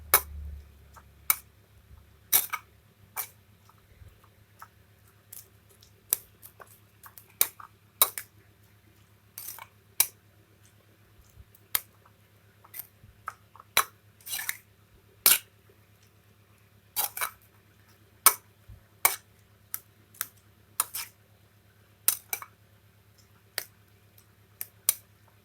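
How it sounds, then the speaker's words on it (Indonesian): Stirring and pressing green chili sambal with anchovies in a pan, heard as sharp, irregular metal clinks and scrapes of a utensil against the pan over a steady low hum, fairly close and with no talking. "Kita aduk lagi, kita piriak lagi dengan terinya."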